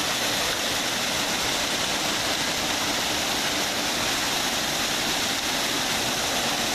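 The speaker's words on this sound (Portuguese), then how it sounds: "Aqui é o ponto que o Ribeirão dos Negros cai dentro do lago." Ribeirão dos Negros stream pouring into a lake, a steady, loud broadband rush of falling water that holds constant throughout with no voices.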